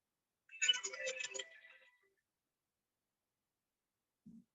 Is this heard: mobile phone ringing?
yes